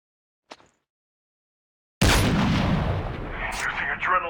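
Gunfire and heavy booms in Call of Duty Mobile Battle Royale, a faint short blip followed by a sudden loud, sustained burst of shots and explosions that rings on to the end.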